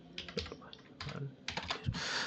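Quick bursts of keyboard typing while an OTP code is entered on a farmer verification portal, with clustered keystrokes in short runs and no talking.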